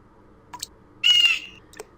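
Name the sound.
bird in the video game Windosill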